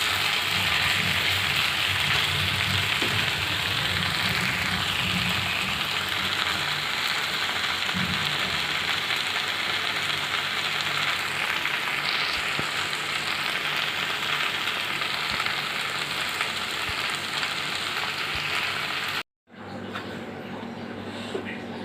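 Vegetables dry-fried in a pan on a stove give a steady, loud, close sizzle for nearly twenty seconds, then a brief cut and a quieter sizzle.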